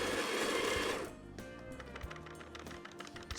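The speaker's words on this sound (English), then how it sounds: "It's gonna grind the right amount of beans into my portafilter." A Breville conical burr grinder on a Breville Dual Boiler espresso machine grinds coffee beans into a portafilter, a loud dense whirring for about a second, then quieter mechanical rattling and tapping.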